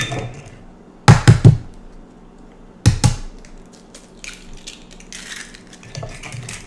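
Three eggs cracked and dropped into morning glory muffin batter in a bowl, two sharp knocks with wet splats a couple of seconds apart, then soft scraping and stirring sounds close by.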